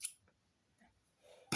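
Scissors snip the end of crochet yarn: a faint, brief cut at the start and another crisp snip at the very end, with near silence between.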